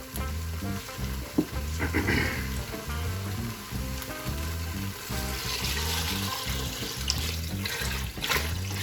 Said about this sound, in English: Try to dissolve some beef bouillon cubes in some water and add that to the pot.